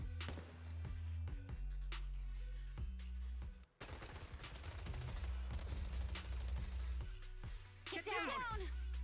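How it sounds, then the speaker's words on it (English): Bursts of suppressive gunfire in the anime-style action game Zenless Zone Zero, loud rapid volleys over game music and effects, with voices speaking between and over the shots. "Gunfire?"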